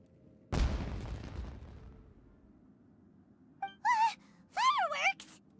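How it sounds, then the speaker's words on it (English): Fireworks explosion in a video game: one sharp, loud burst that rumbles and decays for over a second, followed later by short high-pitched vocal cries and gasps. "Was that an explosion? It sounded like fireworks."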